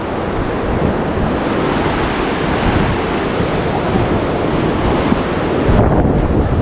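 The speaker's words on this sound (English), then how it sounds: "The wind is coming from behind us this way." Strong storm wind roars in a continuous, loud broadband rush outdoors beside a van in the UK, buffeting the microphone with heavy gust noise and no talk.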